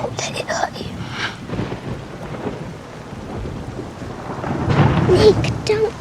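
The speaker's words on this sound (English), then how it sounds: "It's just a storm." A night thunderstorm with rain falling and low rolling thunder, rumbling steadily and swelling louder toward the end, with faint voice-like sounds mixed in.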